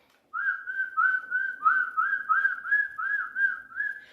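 A human voice imitates a monkey with a quick series of about a dozen high, whistled chirps in an even rhythm. It is close and clear and heard alone.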